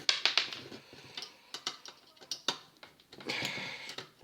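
Small clicks, rattles and scrapes come from a screwdriver working loose a screw that holds a plastic part on an Xbox 360 console during a teardown, in close, irregular bursts.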